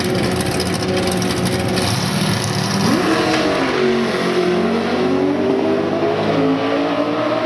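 A drag race car sits in the left lane at a dragstrip for a test run. A loud engine rumbles steadily, then revs up in rising pitch sweeps that hold a strained, climbing roar to the end.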